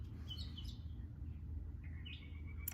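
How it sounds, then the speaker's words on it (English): A few birds chirping outdoors, faint high tweets and short rising calls at a distance over a low steady background rumble. "The birds are in agreement."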